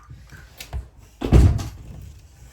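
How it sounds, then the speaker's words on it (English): A door swings open indoors: a soft bump early on, then a fuller thud with a brief creaky rustle near the middle, fading into quiet room tone. "My door is opening."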